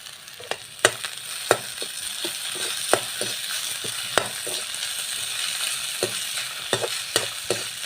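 Ginger paste and onion sizzle in a hot pan with a steady low crackle, broken by sharp, scattered clacks of a utensil stirring against the pan, moderately quiet and without voices.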